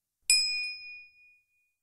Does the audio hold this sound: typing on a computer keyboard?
no